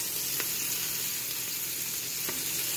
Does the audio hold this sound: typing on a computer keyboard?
no